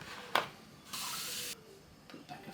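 Liquid poured into an Angry Mama microwave cleaner, vinegar and water, heard as a short, quiet hissing pour following a light knock, with faint handling noises afterward.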